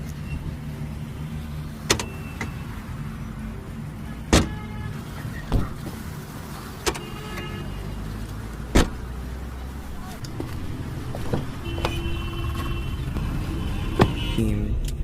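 A parked, air-conditioned car idles steadily as guests climb in and a suitcase is loaded into the trunk, with sharp door and trunk thumps and clicks at intervals, a motor whirring now and then, and people talking at moments.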